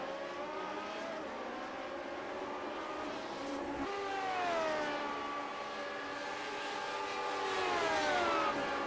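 Classic Lotus Grand Prix cars in iRacing scream past in lapped traffic, several high-revving engines overlapping with rising and falling pitch, a continuous loud whine with no talking.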